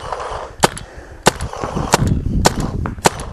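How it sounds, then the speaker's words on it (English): Azodin Kaos paintball marker firing over a chronograph, six sharp, loud pops spaced roughly half a second apart, each one crisp and close with some background noise between shots. "We'll shoot a couple over the chronograph here."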